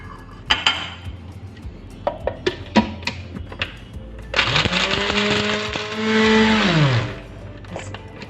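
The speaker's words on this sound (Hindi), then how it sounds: "बस इसको भी हम बारीक पीस लेंगे।" An electric mixer grinder pulverises whole spices (star anise, bay leaf, cinnamon, green cardamom, roughly chopped nutmeg and mace) in a loud, continuous whirring burst of several seconds, rising in pitch and then winding down, after some clinks and knocks of loading the jar.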